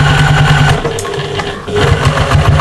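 A sewing machine runs steadily, stitching a quarter-inch seam straight across nested patchwork seams through several layers of fabric for a shopper bag, its motor whirring continuously with a brief slowdown midway.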